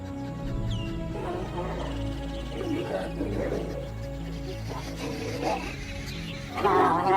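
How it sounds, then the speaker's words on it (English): Lions in the African wild giving deep, rumbling roars that rise and fall in repeated bursts, loud and fairly near, with other wildlife sounds in the background. "They use roars that can be heard from over 5 miles away."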